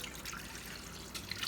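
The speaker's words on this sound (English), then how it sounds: "I'm going to put my water." Water poured into a pot of Nigerian pepper soup for ukodo, a steady soft trickling splash running throughout at low level, with no talking.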